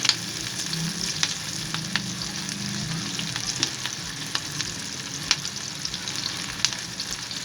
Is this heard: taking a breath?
no